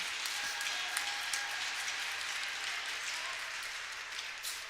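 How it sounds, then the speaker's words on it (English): A crowd at a college D3 hockey game gives sustained applause, a dense, steady wash of clapping that holds at an even level with no voices standing out. "Heartwarming applause from the crowd."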